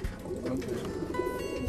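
Racing pigeons coo softly in a loft, a low murmuring chorus of several birds heard close and quietly, with no talk.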